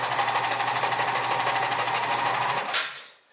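A home sewing machine stitches through four layers of marine vinyl with a size 69 thread, running in a fast, continuous buzzing whir up close before stopping abruptly near the end.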